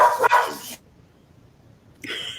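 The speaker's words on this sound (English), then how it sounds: "sorry, my dog's going crazy. Somebody's walking through the front door." Max, a one-year-old dog, lets out a loud, close bark at someone coming through the front door, then falls silent before a second sharp bark starts at the end.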